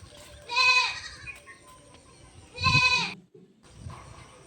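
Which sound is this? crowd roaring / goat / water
goat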